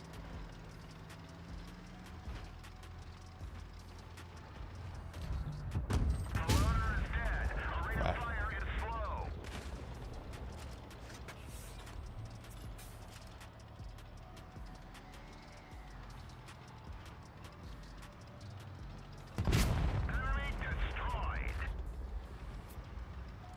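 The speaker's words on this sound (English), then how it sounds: "Let's shoot the fuel tank" Two loud tank cannon shots in the video game World of Tanks Blitz, each a sharp boom with rattling mechanical echo, spaced well apart over engine rumble, with someone talking between them.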